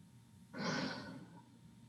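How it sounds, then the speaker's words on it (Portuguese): A deep inhale filling the chest followed by a slow, effortless exhale, a single soft airy breath heard close in a quiet room. "a gente pode encher o peito de ar e simplesmente soltar o ar sem esforço"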